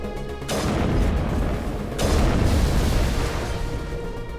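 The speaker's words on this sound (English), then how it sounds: "I like how we destroy crates by shooting in their general vicinity now" Gunfire destroys crates in the Mass Effect video game, with two loud booming bursts about a second and a half apart that roll into sustained rumbling noise.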